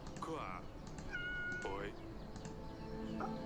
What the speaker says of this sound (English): I'm gonna go over here and I'm gonna pet Dusty really fast. Dusty's gonna meow.